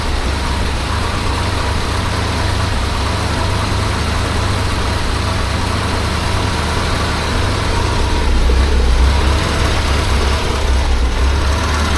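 A BMW 2002 engine idles steadily just after its first start, a loud continuous low rumble with a fairly smooth, even tone and a slight shift in pitch near the end, with no voices.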